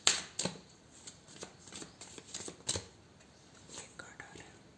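Tarot cards handled and shuffled by hand, a string of crisp riffling bursts and soft slaps at irregular intervals, close and fairly quiet, with faint whispering underneath.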